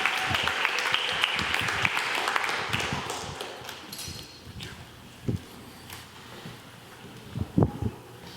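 A church congregation claps to welcome the preacher, with dense, lively applause for several seconds that thins and fades into scattered claps and a few taps.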